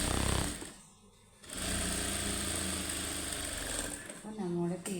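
A sewing machine runs steadily while stitching a seam on fabric, a continuous buzzing whir that pauses briefly and then resumes; a voice speaks near the end.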